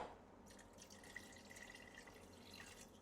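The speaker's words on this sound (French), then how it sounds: "Je vais rajouter un peu d'eau" Water trickling and dripping into a cooking pot, a quiet steady pour with small splashy drips, faint and close, with no voices.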